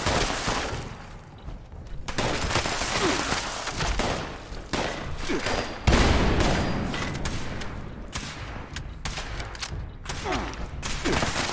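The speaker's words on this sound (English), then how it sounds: "I don't know who's shooting me, well, they seem to be doing it." Sustained gunfire in Fallout 76, with rapid shots and bursts piling up loudly over several seconds amid clanking mechanical noise and an occasional heavier boom.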